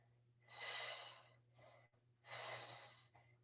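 Two long, heavy exhales during an exercise workout, each a forceful breathy rush followed by a shorter gasp, close and fairly loud, with no talking over them.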